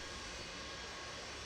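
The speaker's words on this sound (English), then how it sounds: "We've got a plane coming right across our flight plan." An airplane passes overhead in a steady, broad roar that holds evenly throughout, fairly loud and alone with no voices.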